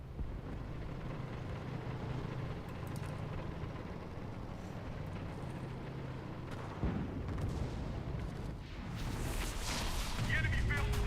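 Artillery fire in the WWII shooter game Enlisted, a dense continuous rumble of distant booms and gunfire under wind-like noise, growing heavier near the end.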